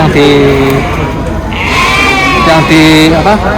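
Batur Dieng sheep at a sheep contest bleat several times, with wavering calls up close, while people talk in the background.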